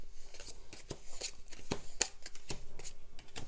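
Playing cards being shuffled close up, a quick series of crisp riffling snaps and flicks in an irregular rhythm, fairly quiet and heard alone.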